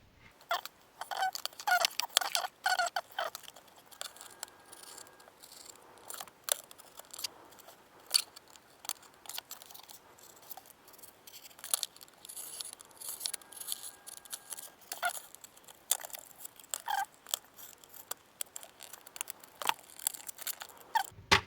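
Unboxing a Hot Wheels Rexy Porsche 911 GT3 R premium package, with quiet crinkling, snipping and plastic clicks in irregular bursts over near silence, close and faint.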